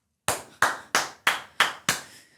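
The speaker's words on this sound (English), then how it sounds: "I don't think I've ever clapped on my podcast before" Six sharp, close hand claps in an even rhythm, each a crisp smack with a short decaying tail, recorded on a podcast with no talking over them.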